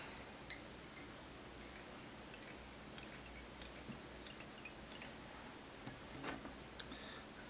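Small scissors snip excess thread while a Redfish Toad fly is tied, producing a series of quiet, crisp clicks and ticks scattered across several seconds over faint background hiss.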